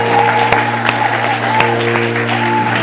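Church congregation clapping and cheering in praise, a steady wash of applause with sharp claps over a sustained musical tone, loud and continuous throughout.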